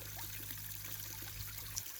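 Water from a pump pouring steadily into a gold sluice, a soft continuous trickling stream over a low motor hum that cuts off near the end, faint and alone.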